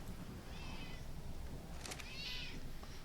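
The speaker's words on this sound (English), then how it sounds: "She's really getting antsy, this cat." A pet cat meows twice, each call drawn out and fairly close over a steady background hum, the second louder than the first.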